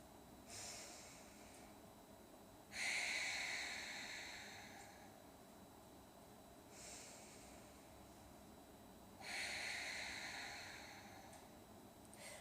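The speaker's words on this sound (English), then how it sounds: "watch my hands and my rib cage carefully as I breathe in and out a few times" Slow, deep rib expansion breathing: a few long airy inhales and exhales through the nose, close and soft, each breath swelling then fading, separated by quiet pauses, with no talk.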